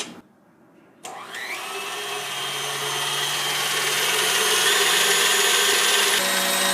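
An electric mixer whirs into aquafaba and lemon juice after a brief quiet start, a steady high motor whine that grows gradually louder and brighter as the beating continues, with no talk.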